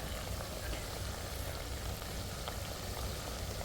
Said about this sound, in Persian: این هم باز بسراغایمون که در پخته میشه